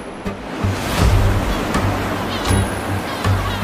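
Sea waves surge and wash along the Arabian Sea coast of Yemen, a steady loud roar of surf with wind buffeting the microphone and no voices.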